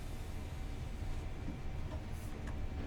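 A BR Class 31 diesel locomotive in Train Sim World brakes toward a stop on a cement train run, giving a steady, continuous low rumble with faint higher squeals and no voices.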